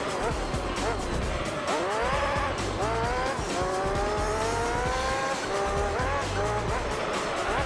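An F1 racing car in Gran Turismo 3 is heard with a high, whining engine that climbs through repeated gear changes as it drives along the track, and a voice talks faintly underneath.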